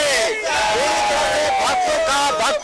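At the Shravani fair opening, a large crowd of devotees shouts the Bol Bam slogan in unison, a loud, sustained roar of massed voices with rising and falling calls and brief gaps between phrases.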